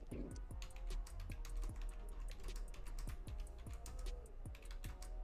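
Rapid, steady clatter of keys on a computer keyboard, close and moderately loud, with irregular clicks continuing for several seconds over a low background hum.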